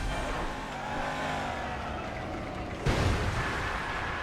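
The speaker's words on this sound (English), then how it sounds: "I think I hit the trailer in the right spot" A car in the Burnout Revenge racing game slams into a trailer, with a steady engine drone followed by a sudden loud crash impact near the end.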